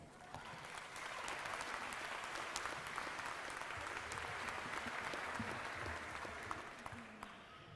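Sustained audience applause greeting a speaker at a summer graduation ceremony, a steady wash of many hands clapping from start to finish before tapering slightly at the end.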